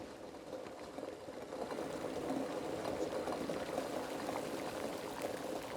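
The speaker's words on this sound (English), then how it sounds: "Oh, kettle's boiled." Kettle boiling at a woodland camp, a soft, steady bubbling hiss that swells slightly after the first second and holds at a low, even level throughout.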